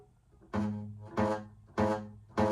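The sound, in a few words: guitar note with fret rattle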